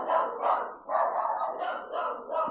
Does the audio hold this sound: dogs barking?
yes